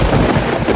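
Thunder from a storm, a radio play sound effect: a dense, continuous low rumble that fills the whole short moment at steady loudness, with no voices.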